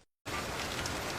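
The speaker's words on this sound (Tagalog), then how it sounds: "Lakas ng ulan" Heavy rain starts abruptly after a moment of near silence, then pours in a dense, steady hiss of drops on surfaces, with no voices.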